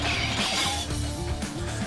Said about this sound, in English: The sword smashes against the armor, shaves it, letting off lightning sparks.